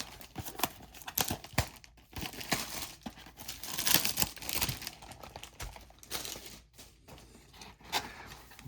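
Stadium Club trading card packs are ripped open, close, sharp foil crinkling and tearing bursts in quick irregular succession with short pauses between.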